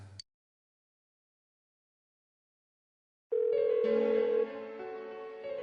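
A phone rings in the video game Persona 4 Golden: after a short blip and a long stretch of silence, a sustained tonal ring begins, loud and continuing to the end.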